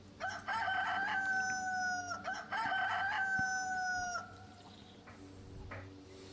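A chicken in the video game DayZ crows twice in a row, each a clear, drawn-out cock-a-doodle-doo at moderate distance, followed by a brief quieter cluck over soft ambient outdoor noise.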